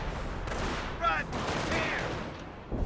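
Hotchkiss machine-gun fire in the Company of Heroes video game, a steady crackle of rapid bursts mixed with other battle noise and faint voice.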